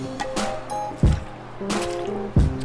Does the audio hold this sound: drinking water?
yes